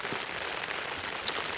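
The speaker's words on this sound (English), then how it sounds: "Basically it's just a all night rain until 10 o'clock tomorrow, coming from the southeast" Steady rain pelts a wild camp where a Hilleberg Akto tent is being pitched, a dense even hiss of drops with no talk over it.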